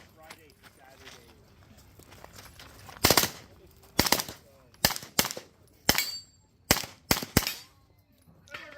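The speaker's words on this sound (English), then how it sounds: "Bunch extra shots on that last piece of steel" Sharp, loud gunshots ring out at a 2025 Buckeye Blast shooting match, fired at steel targets in quick irregular pairs and singles over several seconds, with quieter outdoor background between volleys.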